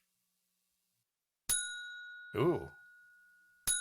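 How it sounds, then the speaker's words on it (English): A bell sound effect fired from a soundboard: two sharp metallic dings, each ringing out with a long sustained tone, separated by a short spoken exclamation. "The fight begins with that fantastic clamoring of bell."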